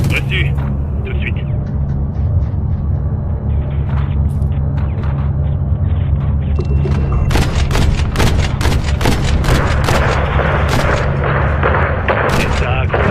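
Battle gunfire in an action film: rapid bursts of shots and heavy booms crack through a rumbling background, growing denser and louder toward the end, with voices speaking over the chaos.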